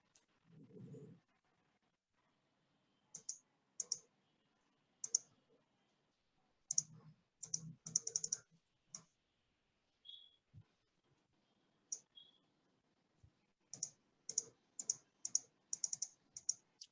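Typing on a laptop keyboard: sparse bursts of sharp, close key clicks in uneven clusters separated by silent pauses, with a brief low murmur near the start.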